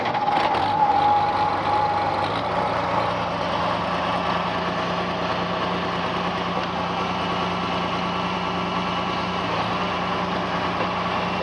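A White 2-70 tractor engine, checked for a rattle, runs at a steady, even idle throughout after starting, with a continuous mid-pitched mechanical drone close to the microphone and no voices.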